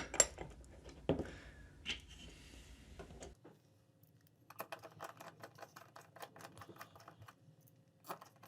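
Lid of a DIY DNA250c passthrough box mod being fitted, a run of small plastic and metal clicks and taps at close range, with louder handling knocks early on before lighter clicks follow.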